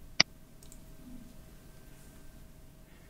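One crisp mouse click on an on-screen icon, close and sudden near the start, followed by near silence with a faint electrical hum.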